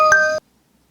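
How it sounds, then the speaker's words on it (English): A bright chiming notification tone sounds on Ruby's laptop, a single clear electronic ding with ringing harmonics lasting under half a second, then silence. "Ruby received a notification on her laptop."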